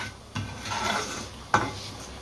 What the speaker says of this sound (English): really to fry the peanuts and the white skinned urid dal before the skin comes off